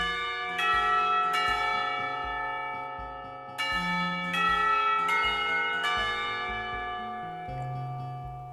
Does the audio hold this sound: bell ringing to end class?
yes